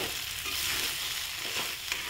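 Boiled potato filling for batata vada gets stirred in a hot pan, a continuous sizzle with soft scraping strokes of a spoon, close and without talk.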